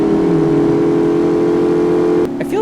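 Supercharged engine of a 2008 Range Rover accelerating in the City Car Driving game, a loud steady droning hum held at an even pitch that cuts off abruptly near the end.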